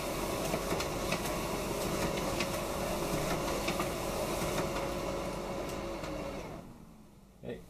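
A Dell multifunction printer runs steadily nearby with a whirring mechanical hum and faint rhythmic clicks, then winds down and falls quiet near the end.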